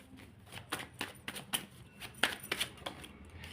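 Tarot cards being drawn and shuffled by hand, a quiet string of crisp riffling snaps and flicks in an uneven rhythm, close up with no talking.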